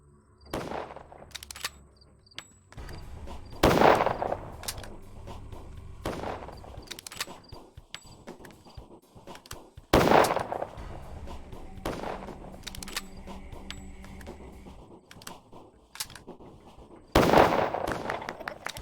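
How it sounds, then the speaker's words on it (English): Three loud rifle shots from the video game Pathologic ring out at wide, irregular intervals over a busy, low game ambience with scattered small clicks and thuds. "I'm gonna bring out the rifle."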